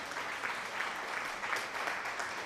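An audience claps after a startup pitch event, a moderate steady patter of applause from a small crowd, fairly faint and even throughout.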